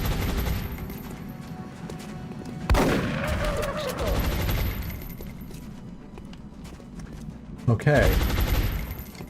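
In the XCOM Long War strategy game, a shotgun fires a loud, sharp blast, with a second booming discharge a few seconds later, amid steady background game noise while someone briefly speaks.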